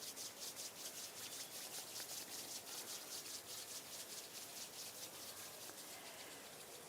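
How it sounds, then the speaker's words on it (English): Palms of the hands rubbed gently together at chest level, a soft, steady, rhythmic swishing of skin on skin, close and quiet, repeated evenly throughout. "bring the palms of your hands together at chest level and just rub them gently against each other"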